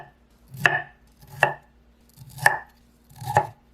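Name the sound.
knife chopping broccoli into small florets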